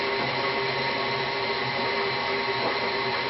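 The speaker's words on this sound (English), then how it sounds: "if you have a mixer like this, you want to put it on maybe 2, maybe 4." An electric hand mixer runs at a low setting while blending batter, giving a steady, continuous whir with a constant drone that holds level throughout, close by and fairly loud.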